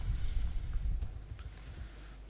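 Someone types a username and password on a computer keyboard, soft rapid clicks over a low background rumble, quiet and close.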